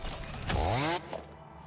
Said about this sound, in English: We're going to chainsaw some more mycelia.